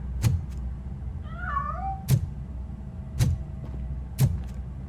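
A cat meows in RoboCop: Rogue City on PC, a single wavering, rising-and-falling call in the middle of the clip, set against a steady low hum and a few sharp thumps spaced at regular intervals.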